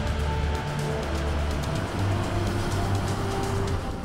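A Mercedes-AMG E63 S pulls hard from a standstill, its engine a loud, steady, low rumble with droning tones that hold throughout under a broad wash of road and wind noise, with no talking.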